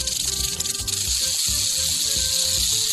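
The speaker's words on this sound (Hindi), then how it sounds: "ये एक जहरीला सांप है जिसकी पूंछ से झुनझुनी जैसी आवाज आती है।" Rattlesnake shaking its tail rattle, a dense continuous high buzzing hiss that holds steady throughout, with faint low pulsing tones underneath.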